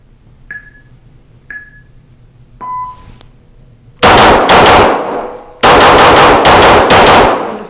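Rapid strings of loud pistol shots from Walther PDP Match pistols, one with a polymer frame and one steel-framed, fired in two fast bursts after a few ringing metallic clangs of rounds striking steel targets.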